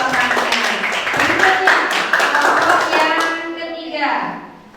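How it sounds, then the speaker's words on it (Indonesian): A classroom of children clapping for a student group and a classmate, brisk close applause that swells and then tapers off, with kids' voices mixed in. "kita beri aplaus untuk kelompok 2 dan juga Dela yang sudah menambahkan jawabannya"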